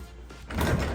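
A stiff sliding barn door in a Coronado Springs Resort standard hotel room at Disney World rumbles briefly along its track, a short close scrape that swells into a louder sliding thud.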